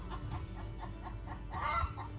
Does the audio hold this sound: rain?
no